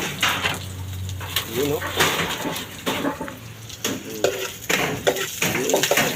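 Onions go into a pan of frying garlic and ginger while mung beans are being cooked, giving clattering utensil scrapes and knocks over a faint sizzle, with a person talking throughout.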